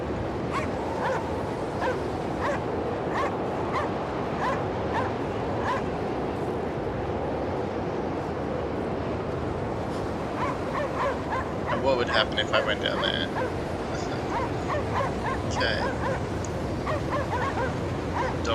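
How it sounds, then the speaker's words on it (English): Dogs barking, yipping and whimpering in the game Cryostasis, steady bursts over a constant rumbling ambience while someone talks throughout. "Dogs are leading me."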